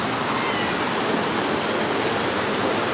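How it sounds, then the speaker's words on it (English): Mystic River Falls, a waterfall at the Silver Dollar City theme park, pours in a steady, dense roar that fills the whole stretch evenly and loudly, with no voices over it. "Here is Mystic River Falls."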